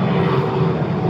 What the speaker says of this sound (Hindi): देखो पीछे ही एयरपोर्ट है, तो जिसकी वजह से इतना शोर है।